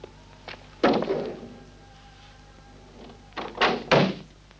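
A door closes with a heavy thunk, followed a few seconds later by a second pair of knocking, latching thuds, close by over a low room hum with no talking.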